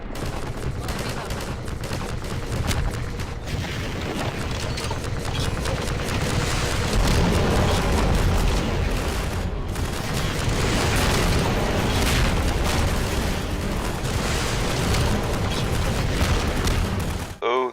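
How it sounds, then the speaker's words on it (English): Sustained, dense rumbling booms and crackling blasts from rocket launcher fire against Striders in the video game Half-Life 2, loud and continuous throughout with overlapping impacts and no clear pauses. "maybe Striders have a bit more health than I remember, or the rocket launcher doesn't do that much damage to them"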